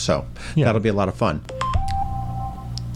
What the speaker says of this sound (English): Yes, that's professional. That's my phone.